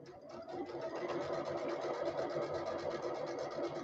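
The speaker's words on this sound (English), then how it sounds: "I'm going to back stitch over where I have flipped over my seams." Sewing machine back stitching over quilt seams, a steady rapid needle chatter running continuously at close range, with no pauses.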